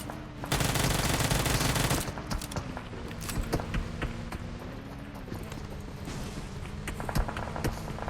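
Gunfire in the mobile battle-royale game PUBG Mobile, beginning with a dense sustained burst of automatic fire, then scattered sharp shots and quick volleys rattling over a continuous low game drone.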